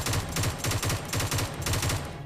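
Rapid automatic gunfire in PUBG Mobile, several bursts of quick repeated shots in a steady rhythm, loud and close, with no talk.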